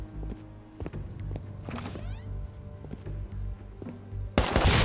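Footsteps in the survival game Rust on an ice lake map, a run of soft thuds repeating through steady background ambience, followed by a sudden loud burst at the end.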